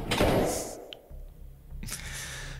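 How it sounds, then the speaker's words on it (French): A door shuts with a thud, followed by a short pause and then a muffled rustling bump, fairly close in a quiet room. "Il referme la porte."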